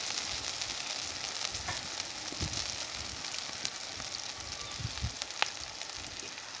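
Steady sizzling and crackling of egg yolks frying in a pan with onions pushed to one side, a continuous close hiss with small pops and occasional stirring scrapes.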